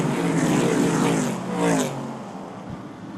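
Short track racing cars running nose to tail down the back straightaway, engines roaring loudly past and then fading into the distance.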